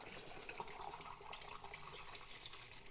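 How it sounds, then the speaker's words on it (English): Fixer chemical is poured into a film developing tank, producing a soft continuous trickle and splash of liquid, faint and steady throughout with no voices. "The last part, in goes the fixer."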